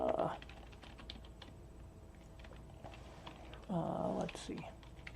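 A mechanical keyboard clicks in a steady scatter of faint keystrokes, broken by two louder bursts of muffled sound.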